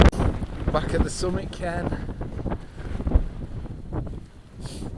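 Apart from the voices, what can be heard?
strong near-gale wind on a mountain summit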